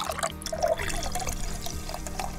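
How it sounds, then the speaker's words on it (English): Prosecco is poured to top off a festive cocktail, a close, bubbly trickling splash with small fizzing pops, steady for a couple of seconds with no talk over it. "You top it off with Prosecco"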